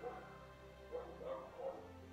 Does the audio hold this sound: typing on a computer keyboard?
no